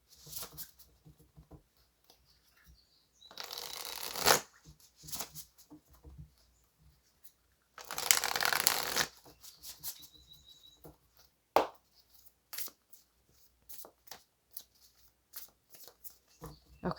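Tarot cards are shuffled in two loud bursts of riffling, separated by quieter handling and taps of cards being set down.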